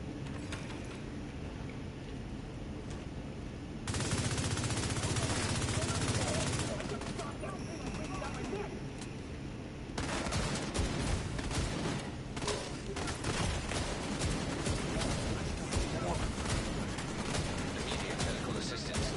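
A weapon fires in a shooter video game in bursts of rapid automatic gunfire, dense and loud. Heavy volleys come from about four to seven seconds and again from ten seconds on, with a voice talking over parts of it.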